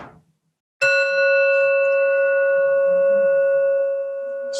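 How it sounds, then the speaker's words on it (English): A meditation bell is struck once and its clear, bright tone rings on and slowly decays over several seconds, loud and alone in a quiet room. "We're going to use the bell as a way of measuring one full circle around the body"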